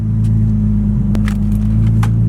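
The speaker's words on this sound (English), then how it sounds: "I'm gonna turn on the car." An Infiniti G35/G37 being started, with a steady loud engine hum close by and a few small clicks and crackles over it, no talking.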